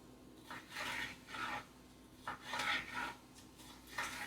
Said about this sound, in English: finely slice this pepper